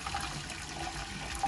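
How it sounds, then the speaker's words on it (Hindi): Hot water poured from a kettle into a dum pukht biryani pot, a steady close splashing pour that runs continuously through the moment with no talk. "अब यहाँ पर कैटल में मैंने पानी गर्म किया हुआ है, वो मैं इसके अंदर डाल दूँगी।"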